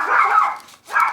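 Two short yelping barks from a dog, close and fairly loud, separated by a brief silence.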